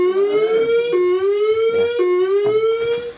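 A building fire alarm sounds a loud, steady electronic tone with harmonics, repeating in roughly one-second pulses with brief breaks between them, close and continuous with no talk over it.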